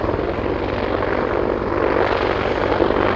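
Army Air Corps attack helicopter at the RIAT 2019 air show, its rotor and turbine roar loud and steady throughout, a dense broadband wash with a continuous low thrum and no voices.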